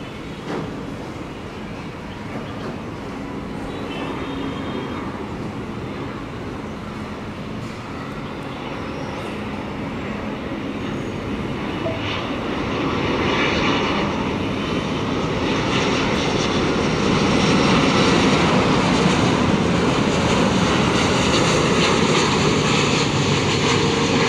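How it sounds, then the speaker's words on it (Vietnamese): A Cathay Pacific Airbus A350-1000 lands on runway 25 right at Tan Son Nhat airport, its jet engines roaring steadily and building louder as it nears, with no voices present. "Chiếc máy bay đang bước vào hạ cánh ở đường băng 25 phải."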